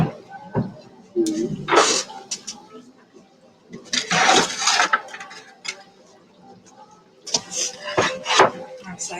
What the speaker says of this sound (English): I'm going to cut you a slice so you can see what it's like inside